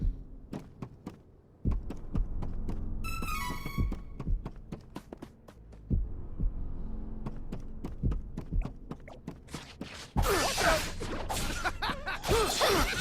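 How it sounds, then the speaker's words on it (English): A slow, steady ambient heartbeat pulses through a creepy ship interior in the video game Trials of Mana, low throbbing thumps repeating for the whole stretch under a faint hum, with a brief chiming flourish early on and a louder noisy burst near the end. "there is a slight ambient heartbeat"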